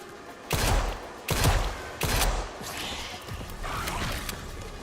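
Gunshots crack in Resident Evil Requiem, three loud, evenly spaced blasts followed by softer, quicker shots and mechanical clatter, close and punchy with no voices.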